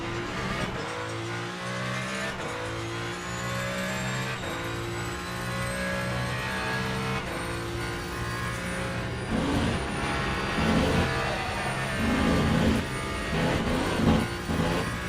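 Hypercar engines in a rain race at Spa in the racing game Le Mans Ultimate, a loud near engine whining through rising gear-by-gear revs with shifts every couple of seconds, plus spray-like hiss and other cars passing.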